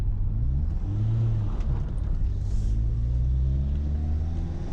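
Inside a Renault Super 5 with a 1.4 injected engine, the motor drones steadily and climbs gently as the car speeds up, a constant close rumble with no talking.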